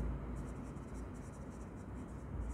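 A pen scratches steadily on paper or a board during an accounting lesson, with soft continuous strokes close by and no talk over them.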